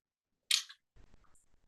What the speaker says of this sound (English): I'm just going to pop the cap back on.